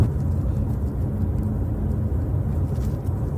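Steady low rumble of a car interior heard on a boosted police recording, a constant engine and road drone with no voices present.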